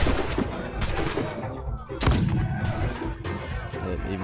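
Ship cannons fire in Assassin's Creed: Black Flag, a dense barrage of loud booming shots and blasts in quick succession, with heavy rumbling between volleys.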